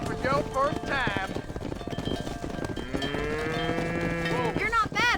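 Cattle herd being driven on a ranch in the video game Red Dead Redemption, with steady lowing moos rising and falling over a continuous rumble of hooves, near and fairly loud, with voices talking over it.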